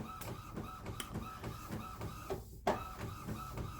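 A printer feeding glossy paper through, running with a steady rhythmic mechanical chugging and whirring, then one brief sharp click partway through before the rhythm picks back up.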